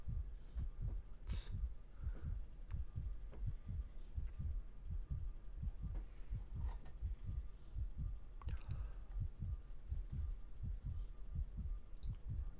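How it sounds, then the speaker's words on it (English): A heartbeat sound effect played during a Magic: The Gathering Legacy online match, a steady low double-thump pulsing throughout, loud and alone with faint clicks above. "I'm just going to pause the music and put on the heartbeat."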